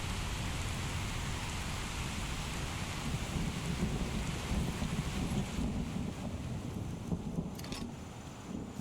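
Thunder in a modded Skyrim game, a long low rumble rolling under steady rain and wind-like noise, which thins out toward the end.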